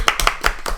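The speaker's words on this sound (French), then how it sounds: "Tout le monde applaudira." Quick, close hand claps in a steady run of about five during a tabletop role-playing game session, bright and sharp with nothing else heard.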